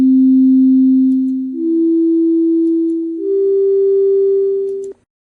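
A steady pure tone from a function played in Sketchpad 5 software steps up in pitch twice, three sustained levels lasting about five seconds in all before cutting off abruptly.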